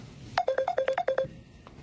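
A mobile phone ringtone plays a quick run of bright electronic beeps in a steady rhythm for about a second, then stops, heard clearly in a quiet room.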